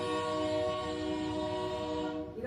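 A train sound effect for the 5:45 train to Boston in a staged reading, heard as a loud, sustained, steady horn-like tone that holds for the full couple of seconds before fading slightly at the end.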